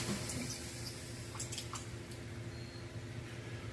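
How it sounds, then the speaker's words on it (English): A paintbrush loaded with water-based acrylic paint is swished in a water container, giving faint, brief splashes and drips over a steady background hum. "So now I'm going to clean the brush one more time."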